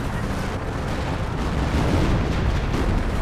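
Artillery from a creeping barrage in the Company of Heroes strategy game rumbles steadily and densely throughout, low booms blending with gunfire into a continuous loud wash without pauses.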